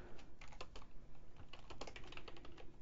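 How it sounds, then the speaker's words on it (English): Rapid clatter of keystrokes on a computer keyboard while someone fills in an online registration form, irregular bursts of taps close up over a faint background hum. "Whoa, I can't type today."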